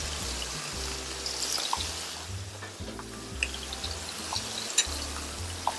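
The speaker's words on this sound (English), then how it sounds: "So now I'm going to add my vegetables. Tomatoes over here. Onions and fennel." Tomatoes, onions and fennel sizzle in a hot pan over coals outdoors, a steady close frying hiss with a few soft clinks and stirring scrapes, no voices.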